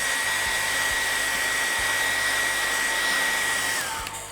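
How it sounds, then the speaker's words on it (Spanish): A hair dryer blows steadily on fresh paint, a constant loud whirring hiss with a steady motor whine, then briefly dips in pitch near the end as it is switched off. "les voy a dar un poquito de secador apenas"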